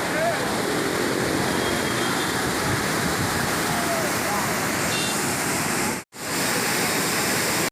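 Water spilling over a lake's dam wall roars as a dense, continuous rushing wash, loud and steady, broken only by a momentary cut near the end.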